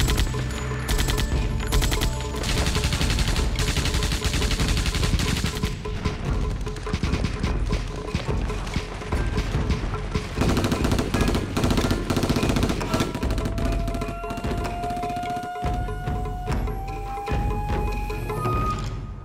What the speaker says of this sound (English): they come under heavy machine gun fire from well-entrenched Chinese positions